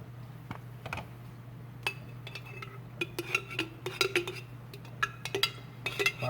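A spoon spreads marinara sauce over ricotta in a baking dish, making scattered light clinks and scrapes against the dish that grow busier and closer toward the end.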